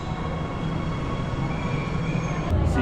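A train pulls into a station with a loud, steady rumble of wheels and running gear throughout, and a brief rise in noise near the end. No voices are present.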